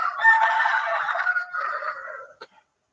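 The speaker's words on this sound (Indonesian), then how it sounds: "Ayam siapa itu?" A nearby rooster crows once, a long, clear cock-a-doodle-doo that trails off and ends with a short clipped note.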